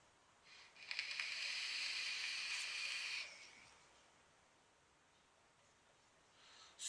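A hissing draw of vapor through an OBS Crius atomizer, one steady inhale lasting about two seconds, close and faint, then quiet with a soft exhale at the end.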